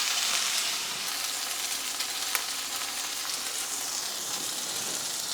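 Tuna fillets sizzle steadily in a hot pan, salt side down, a continuous close crackling fry with small pops and no talking.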